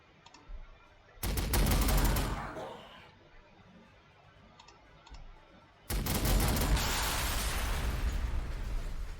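Gunfire bursts in the Warhammer 40,000: Sanctus Reach video game: a loud rattling volley around the second second, then quieter clicks, then a second sustained heavy barrage near the end, with no talk.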